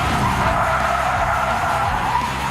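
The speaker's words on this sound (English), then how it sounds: "Then things really get out of control with a 180-degree spin out using the handbrake." A car spins 180 degrees on the handbrake on a driving course. The tires skid and squeal in a loud, continuous rasp over low engine noise for the whole moment, with no voices.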